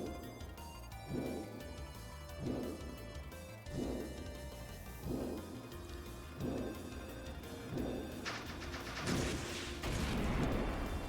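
Repeated missile blasts in the video game Trails in the Sky SC, a steady series of heavy booming thumps about every second and a half over a busy music bed, growing denser and hissier toward the end.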